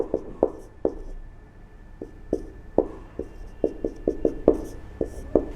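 Handwriting the name Santiago with a pen on paper, a series of sharp scratchy strokes and taps in an irregular rhythm, close and clear in a quiet room.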